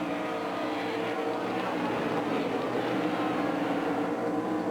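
Race cars scream around Watkins Glen at full speed, a dense continuous engine roar with shifting pitch as they pass, loud throughout.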